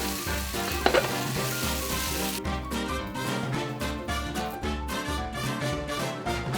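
Sauce yakisoba sizzles in a pan with fish powder and bonito flakes from a dashi pack tossed in, a loud continuous fry with stirring and scraping, close up and without talk.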